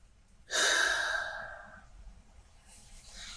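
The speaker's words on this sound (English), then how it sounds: "Take a deep breath." A single deep, breathy inhalation close to the microphone, a long airy rush that fades out gradually, followed by a softer breath, with no talking.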